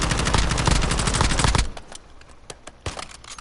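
Rapid automatic gunfire in Call of Duty Warzone, loud and dense for about a second and a half, then trailing off into scattered single shots.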